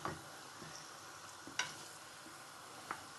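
Meat sizzles quietly in hot oil with garlic, a soft continuous frying hiss broken by a few sharp clinks and scrapes of stirring, heard close with no talking.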